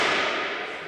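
A single sharp nail gun shot into a timber frame: one loud, close crack with a brief ringing decay that fades within a second.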